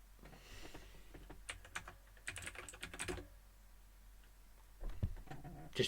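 Quiet computer keyboard typing in bursts of rapid key clicks, with pauses between short runs and a faint background hum, no talking.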